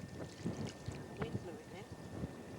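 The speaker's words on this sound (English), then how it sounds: "Wind blew it then." Gusty wind buffeting the microphone outdoors on a remote desert track, a low rumbling roar under voices talking nearby.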